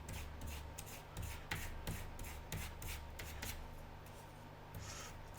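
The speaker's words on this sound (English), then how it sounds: "you can actually just give them a quick sand" Quick sanding of small wooden end parts on a model aircraft's undercarriage, a faint, steady rubbing rasp with short repeated strokes close by over a low background hum.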